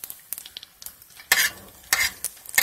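Brik pastry sheets fry in oil after being flipped, with bursts of crackling sizzle and soft scraping clinks of a utensil in the pan, close and irregular, with no voices.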